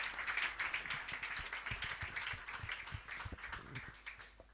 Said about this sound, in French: Acclamons pour la parole du Seigneur.